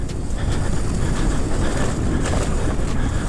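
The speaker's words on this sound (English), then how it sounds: "Cole bump started his bike." A dirt bike being bump started outdoors, a steady broadband engine roar with wind buffeting the microphone, continuous and close with no talk.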